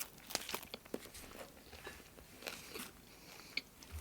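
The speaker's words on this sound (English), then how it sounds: "The seaweed is actually super crunchy" Faint crisp crunches and crinkles from biting into an onigiri wrapped in nori seaweed, several irregular bites and chewing sounds close up, quiet with no talking.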